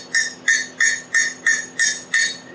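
Seven evenly spaced, sharp hammer taps ring out close up as a small hammer textures metal in chasing and repoussé work for a scroll wrench and rose, with a bright metallic ping on each strike and no voices.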